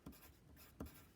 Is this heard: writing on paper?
yes